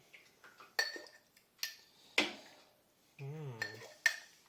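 Hot quince jelly goes into a large glass jar with a series of sharp glass and metal clinks, close and separated by short pauses, plus a brief ringing hum near the end.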